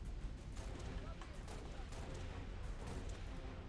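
Dense, continuous gunfire and explosions from a Halo: Reach campaign battle fill the whole stretch, loud and sustained, with a voice talking over the combat.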